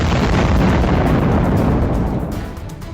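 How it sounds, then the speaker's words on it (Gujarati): A thermobaric bomb blast in the Russia-Ukraine war: a sustained, roaring, broadband explosion rumble that stays loud and dense for about two seconds before starting to fade. "હવામાંથી ઓક્સિજન ખેંચી લેતા બોમ્બનો બ્લાસ્ટ."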